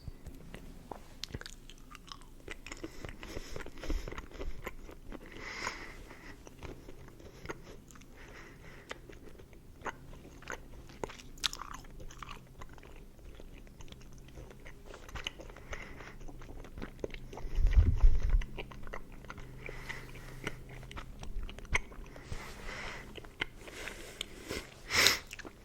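Close, wet chewing and crunching of Warheads gum, steady smacking bites through the whole stretch with a louder burst partway, no talking.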